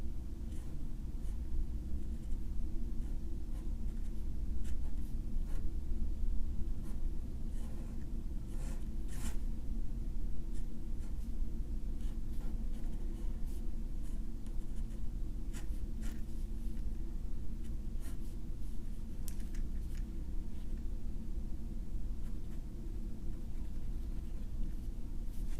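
A picture drawn by hand, with soft, scratchy pen or pencil strokes that come in short irregular bursts over a steady low background hum and continue quietly for the whole stretch, with no talking.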